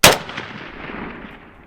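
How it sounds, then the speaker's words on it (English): A single loud crack from a Polish WBP Jack AK-47 rifle fired on an outdoor range, followed by a long echo rolling off into the distance. "we decided at Thunder Ranch we were going to shoot at 100, 200, 300 and make an honest attempt at 400 yards"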